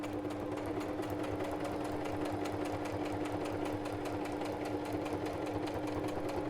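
A sewing machine stitching around the edge of a handmade notebook, running steadily and fast with a dense even rattle of needle strokes and a constant motor hum, close and uninterrupted.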